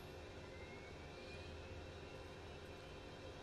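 Steady whine and low rumble of a Cessna Citation Mustang's right jet engine spooling up at start in Microsoft Flight Simulator 2020, continuous and even throughout, with no voices.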